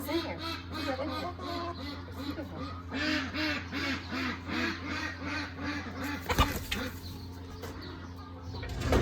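Ducks quack in a barn, a dense, continuous chorus of many birds close by, with loud rhythmic honking calls overlapping throughout, mixed with barn noise and a brief clatter near the end.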